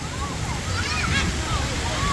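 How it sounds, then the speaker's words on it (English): Water splashes and pours steadily at a water park splash pad with waterfalls, a constant rushing wash heard close, with a person talking over it. "Now right in front of us here is Splash Waterfalls, which is their splash pad"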